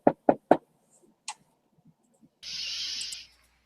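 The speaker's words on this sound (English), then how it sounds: "Katerina jumps at the knock on the door" Three quick sharp knocks on a door, close and crisp, followed by quiet gaps with faint small sounds and then a brief hissing burst near the end.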